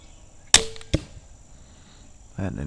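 A 544-grain arrow is loosed from a slingshot crossbow: a sharp snap of release, then a quick thud of impact a split second later, followed by quiet and a soft rustle near the end.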